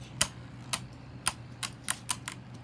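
Beyblade Burst Turbo spinning tops strike one another in a stadium with sharp, irregular clacks, about ten distinct hits spaced unevenly over a low steady hum, close and fairly quiet.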